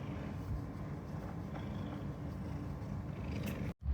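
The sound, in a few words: cats purring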